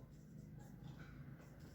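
A marker or chalk scratches across a board while a polynomial factorization lesson is written out, producing faint, continuous scraping strokes close by in a quiet room.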